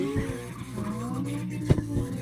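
A lowrider car drifting in CarX Drift Racing online, with a loud continuous tire squeal and engine drone, a sharp burst of skidding near the end.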